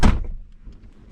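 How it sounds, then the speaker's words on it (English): A car door shuts with a single solid thunk right up close, then a quiet, fading resonance and faint background noise. "Let me close this door."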